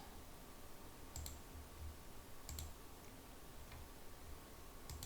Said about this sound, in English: Let me click a few buttons here.